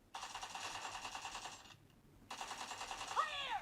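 Automatic gunfire from the video game PUBG Mobile, played on a phone: two long, rapid bursts separated by a brief pause, loud and close in the mix.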